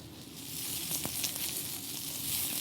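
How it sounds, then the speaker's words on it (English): Mushrooms browning in a hot pan give a steady, hissing sizzle with a few crackling pops, close and continuous, with no voices. "we're getting nice browning on those mushrooms, and we're going to let them continue to cook"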